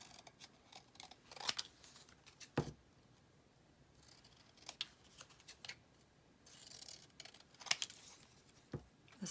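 Paper being cut with scissors for a journal, a quiet series of close, crisp snips and rustles at an uneven pace with short pauses between cuts.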